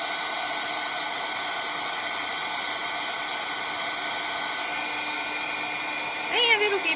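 A hair dryer blows a steady, loud whir over a watercolor painting, holding an even hiss throughout with a slight shift in pitch near the end.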